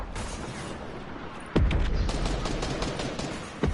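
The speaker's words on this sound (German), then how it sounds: "Wer auch immer da mit dem Rocket Launcher ballert." A rocket launcher firing in a multiplayer shooter: heavy booming blasts over a constant rumble of gunfire, with one sharp loud hit partway through and another near the end.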